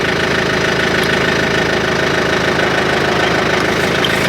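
A tractor engine runs in a continuous knocking idle, steady and loud at close range, rhythmic mechanical clatter over a low rumble with no voices.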